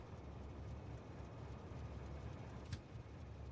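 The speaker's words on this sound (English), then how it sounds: "Let's hop back in the train." Steady low rumble of a train ride in a video game, a continuous rolling drone with one brief clank near the end, no voices.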